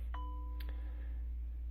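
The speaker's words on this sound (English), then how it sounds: "You'll have heard maybe a chime sound. I think I'm getting a message." A faint message notification chime sounds twice in quick succession, a short tone followed by a second ding, over a steady low hum.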